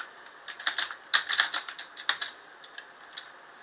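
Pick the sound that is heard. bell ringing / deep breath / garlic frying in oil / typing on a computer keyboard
typing on a computer keyboard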